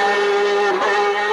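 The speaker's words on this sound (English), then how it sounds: "He used to stamp on the throttle, blipping it throughout the entire corner." Ayrton Senna's turbocharged Formula One engine holds a loud, sustained high-revving wail through a corner, with a brief dip and rise in pitch as the throttle is blipped, close and with no talk.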